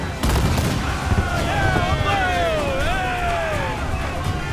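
Ship cannons booming in a naval battle in the video game Assassin's Creed IV Black Flag, a loud rumbling barrage with whistling projectiles sweeping past, mixed with game sounds.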